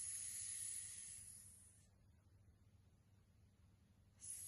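A person imitates a cobra snake with a steady breathy hiss during a children's yoga pose, loud at first, then fading out before a brief second hiss starts at the end.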